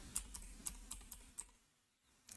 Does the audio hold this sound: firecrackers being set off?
no